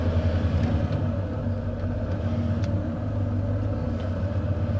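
A car drives along steadily, its low engine rumble and road noise continuous and close throughout, with no talking.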